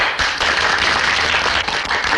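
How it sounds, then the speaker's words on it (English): An audience gives a round of applause, a dense burst of many hands clapping together, loud and continuous, with no voices over it. "another round of applause for Private Gillis"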